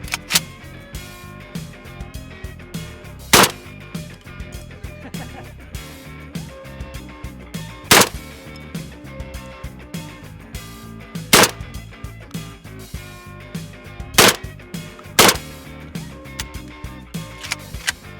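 A shotgun firing Federal birdshot through a full choke at clay targets outdoors, five loud sharp blasts spaced a few seconds apart over continuous background noise and music.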